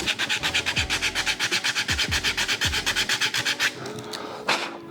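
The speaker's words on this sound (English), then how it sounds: "take the sandpaper real fast. Just to sand the dowel smooth" Sandpaper rubs rapidly back and forth along a wooden dowel in a quick, steady rhythm of close rasping strokes, about five per second, before stopping near the end.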